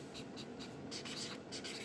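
Pen or marker scratching across a board or paper while someone writes a word in a classroom lesson, short quiet strokes in bursts over a steady low room hum.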